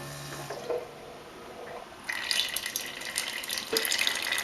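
Water streams steadily from a Keurig B70 coffee maker into a cup, a constant close hiss that begins abruptly partway through after a quieter stretch, with faint bumps before it.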